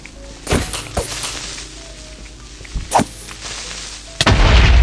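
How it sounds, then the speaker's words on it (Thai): A Minecraft video game scene plays several sharp explosive booms and thumps spaced across a few seconds, with a louder blast near the end that leaves a rumbling tail. "เอ้า มันระเบิดไม่โดน"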